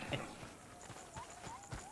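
A donkey's hooves running in a video game, a quick light clip-clop rhythm of several hoofbeats close by, with faint game tones in the background.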